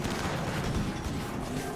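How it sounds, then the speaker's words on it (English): Slug turrets in the colony game RimWorld fire heavy, continuous rounds, a dense and rumbling barrage of booming impacts with no pauses. "The slug turrets are saving our bacon against the Diabolus, man."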